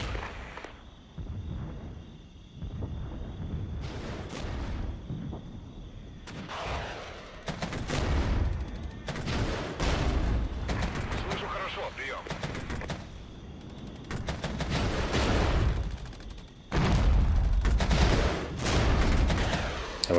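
Gunfire and artillery in the wartime strategy game Regiments: repeated bursts of rapid shooting and heavy booming blasts, loud and dense in clusters, with someone talking over the combat.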